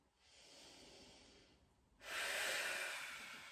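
Deep, slow breathing during a yoga hip rotation: a soft, drawn-out breath followed by a louder, airy breath, close and alone, with no voice.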